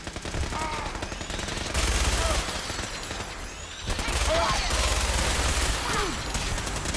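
Gunfire in the video game Fallout 4: rapid automatic bursts in two long volleys, loud and close, separated by a brief quieter gap, with faint voices under the shooting.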